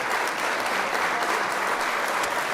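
Steady, dense applause fills the whole stretch at moderate loudness, a continuous wash of hand claps with no gaps and no talking over it.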